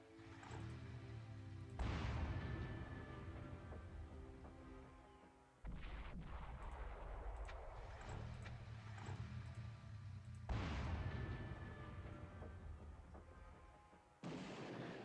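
Units trading fire in Final Liberation: Warhammer Epic 40,000, a 1997 Windows strategy game: several loud bursts of artillery-like blasts and booms arrive in separate waves, each followed by a rumbling tail, with no talk over them.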